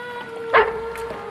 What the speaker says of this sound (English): Whose dog is that?